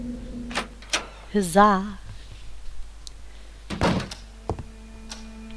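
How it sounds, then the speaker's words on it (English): Key turns and the front door opens in the game Scratches, a few sharp clicks and thunks spaced apart, with a louder clunk near the end, interrupted by a short exclaimed voice. "With very little effort, the key unlocked the front door."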